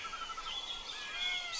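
Bright, thin bird chirps and whistled song lines over a soft outdoor hiss, steady and moderately faint with no voices.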